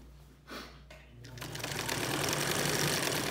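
A vintage Singer 99K sewing machine stitches through four layers of fabric, starting with a few short bursts and then settling into a loud, steady, fast mechanical whir and rapid clatter.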